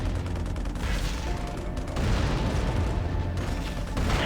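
Rapid, dense bursts of gunfire and explosions from units battling in the real-time strategy video game Halo Wars, a loud, continuous clatter that intensifies at about two seconds, with no speech.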